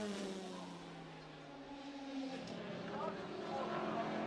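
Ferrari 458 Italia GT race car from the AF Corse team in the 2011 International Le Mans Cup, its engine a sustained high-revving drone that climbs steadily in pitch while holding a loud, near level.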